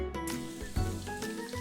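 Pancetta frying in a pan until golden brown gives off a soft, steady sizzle, quiet and close, with a faint crackle partway through.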